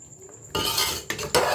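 Spices are tipped into a kadai for chicken karahi and stirred, giving sudden close metal scrapes and clatters of utensil on pan in quick bursts.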